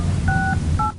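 Two bursts of dual-tone telephone keypad dialing, each tone pair held about a quarter second, sounding over a steady low hum in a quiet room.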